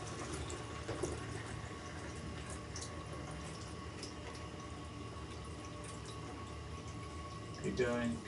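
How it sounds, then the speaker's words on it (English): Liquid pours from a jug into a Youngs Brew Buddy cider brewing container as a continuous watery splashing and filling rush, with a louder surge near the end. "one of you with a big jug fills most of it, and then another person with a small one can just top it up"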